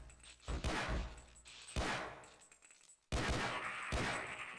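Gunfire in the Half-Life mod MMod, Uplink demo: several loud, sharp gunshots in quick bursts, each a broad punchy crack with a short reverberant tail, separated by brief lulls.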